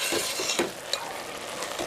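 A spoon stirs Aravana or Sarkara rice payasam in a pot over heat, with soft repeated scraping strokes against the bottom under a continuous low sizzle.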